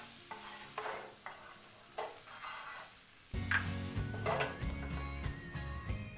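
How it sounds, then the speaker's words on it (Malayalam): Butter melting and sizzling on a hot tawa griddle over a low stove flame, a soft continuous crackle with occasional scraping, close by and without talk. "തവ ചൂടായിട്ടുണ്ട്. നമുക്ക് ഒന്ന് ബട്ടർ തേച്ചിട്ട് തീരെ സ്റ്റവ് കുറച്ച് വെച്ചിട്ട് വേണം ചെയ്യാൻ."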